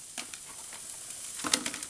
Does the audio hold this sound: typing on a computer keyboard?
no